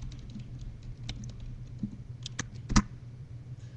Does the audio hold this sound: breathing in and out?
no